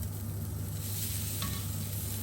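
Cauliflower steaks sear flat-side down in a hot pan, giving a steady, loud, close sizzle and crackle that holds evenly throughout, with no voices.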